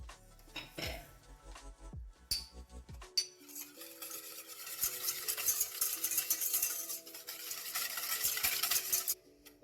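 Cupcake batter with sugar gets mixed in a bowl, first with a few scattered clinks and taps, then a continuous close, hissing, scraping stir that grows steadily louder before stopping abruptly.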